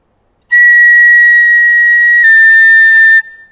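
A loud, steady high note on a piccolo, a sustained B-flat held for close to three seconds with a slight shift partway through, played alone with no talking.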